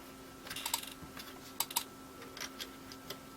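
Keys clicking on a DK-Tronics 48K Spectrum keyboard keypad under repair, a few quiet separate presses, then two quick pairs and scattered light taps, close by and faint against a low steady hum.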